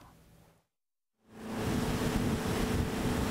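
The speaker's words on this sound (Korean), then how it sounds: "모터보트가 만드는 하얀 파도를 시원하게 넘나드는 사람들" Water rushes and splashes in the white wake of a motorboat on Jangseong Lake, a broad steady roar that cuts in after a brief silence and stays loud and close, with wind buffeting the microphone.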